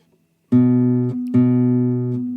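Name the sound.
classical guitar string fret buzz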